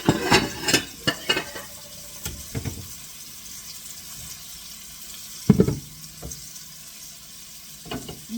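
Chunks of beef browning in a pan for beef in gravy, with a steady sizzle and occasional loud stirring scrapes and clatters close by, no talking.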